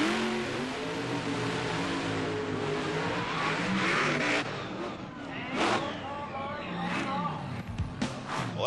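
Mud racing vehicles named Think Fast and the Intruder run side by side at the 1994 Spring Nationals, engines roaring and revving with bursts of acceleration while a commentator talks.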